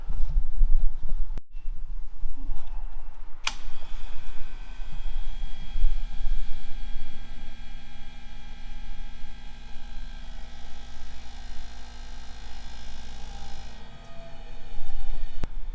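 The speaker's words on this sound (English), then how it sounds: "turn this on, it'll build pressure" Brake fluid flush machine switched on and building pressure in a shop, a steady electric hum with a droning pump tone that runs continuously at moderate loudness, marked by a couple of sharp clicks near the start.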